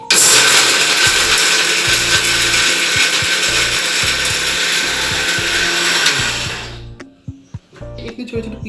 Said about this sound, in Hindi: और ये मैं इसको पीसने जा रही हूँ, मिर्च हो रही है।